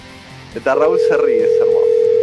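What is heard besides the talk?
telephone dial tone while calling a band in Ohio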